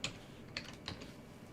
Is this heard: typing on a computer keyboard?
yes